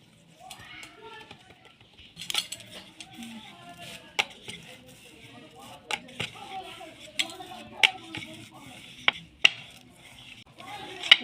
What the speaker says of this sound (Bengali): এবার লেচিগুলো আমি বেলে নেব।